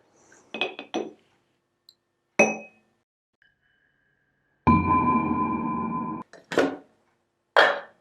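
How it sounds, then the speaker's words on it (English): Small ice cubes drop into a mojito glass in sharp clinks and rattles, a few separate close hits, then a longer clattering pour, followed by more single clinks, with no voices. "we're just going to fill it with ice all the way"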